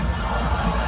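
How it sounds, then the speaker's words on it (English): Korean baseball stadium crowd cheering and chanting, a dense, loud wall of many voices with high young voices prominent, close and continuous. "Man, I love the chanting. I love the cheers."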